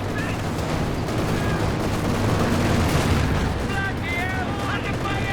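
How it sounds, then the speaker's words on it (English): Anti-tank gun firing at a Panther tank in Company of Heroes 2, the shots mixed into a dense, continuous wall of battle noise with overlapping gunfire and booms throughout. "getting some shots off on the Panther"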